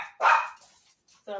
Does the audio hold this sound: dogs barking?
yes